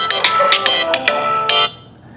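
A phone ringtone for an incoming call from an unknown caller, a loud, close run of bright repeating electronic tones in quick pulses that cuts off abruptly, leaving quiet.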